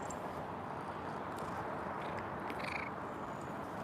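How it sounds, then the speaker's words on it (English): A cat meows in a room, brief faint calls rising over a steady hiss of background noise, with no one talking. "this cat is crazy"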